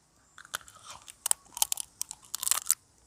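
Someone bites into a roasted leg of a large 1.5 kg mud crab, and the shell gives a run of sharp, loud cracks and crunches close to the mic, with no talk over them.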